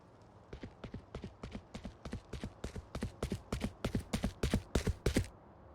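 Fake running footsteps from Yoru's ability in Valorant, a rapid even stream of steps that builds from distant and soft to loud and near before cutting off.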